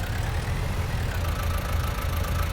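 Tractor engine idling in Farming Simulator 19 beside an irrigation setup, a steady low mechanical rumble with faint knocking pulses, continuous and close, with no talking.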